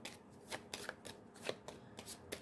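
Tarot cards are shuffled in a run of quick riffling bursts at an irregular rhythm, close and fairly soft, with no one talking.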